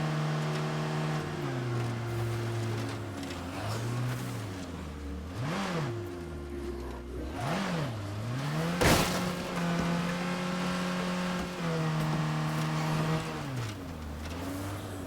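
A car in the zombie survival game State of Decay 2 drives cross country, its engine droning and rising and falling in pitch as it revs and shifts, steady and close throughout.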